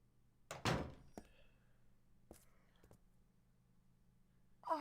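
An apartment door in the Silent Hill 3 game is unlocked with a house key and opened: a loud clunk of the lock, then a few quieter knocks and clicks over a low steady hum in an otherwise quiet room.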